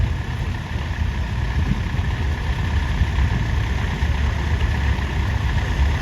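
A 1958 David Brown 25D tractor idles at an East Midlands steam and country show, its engine putting out a steady, low, even chug with no one speaking over it.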